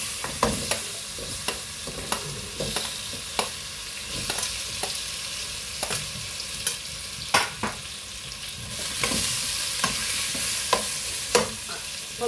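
Assorted nuts cooked in a pan for protein laddu, with a spoon scraping and clattering at an uneven rhythm over a soft, continuous sizzle, close and fairly loud, with no talking.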